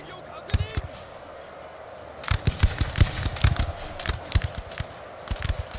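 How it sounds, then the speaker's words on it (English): Volley fire from gunpowder units in Shogun 2: Total War, a quiet opening shot followed by a dense run of sharp musket cracks in ragged clusters, loud and close, with battlefield noise underneath. "Now the guns are beginning to fire again."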